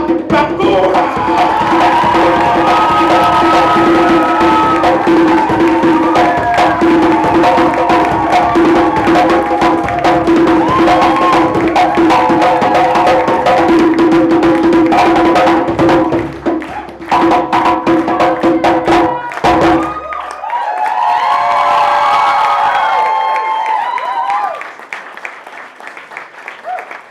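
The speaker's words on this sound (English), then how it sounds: "give a stamping, rowdy, chair, clap for the one, the only" An audience at a book launch in Hackney Attic claps loudly and continuously, with cheers, whoops and some stamping, before the applause cuts out briefly and then swells again, a voice rising over the crowd near the end.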